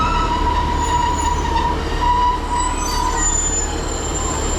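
British Rail Class 150 unit 150.263 departs Newton Abbot in Devon, heard up close with a steady low rumble and high squealing wheels on the rails.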